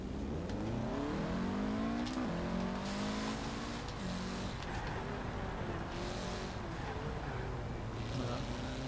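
A Mitsubishi car in Forza Horizon 4 drives, its engine revving up and down steadily with rising and falling pitch, loud and continuous with a faint voice underneath.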